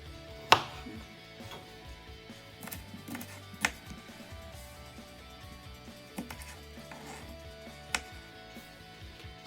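Sharp knife strikes against a cutting board chopping aloe vera leaves into small pieces, spaced irregularly with a few louder chops among quieter cuts.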